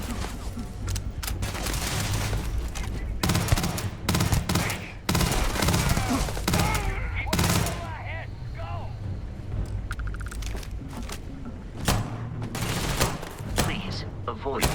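Gunfire from a pistol and a machine gun in the Starfield video game keeps crackling through a combat scene, with rapid bursts and sharp single shots. Loud impacts and effects go with it, and voices speak now and then.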